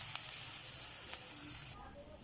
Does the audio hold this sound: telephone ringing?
no